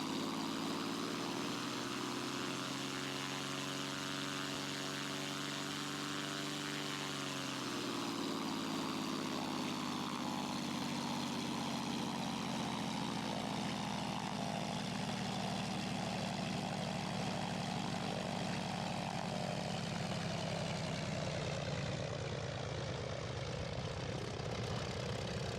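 Zlin Z-142 propeller aircraft in X-Plane 11 with a steady, loud engine drone and strong harmonic whine; the pitch dips around the eighth second, then settles into a rougher, broadband roar.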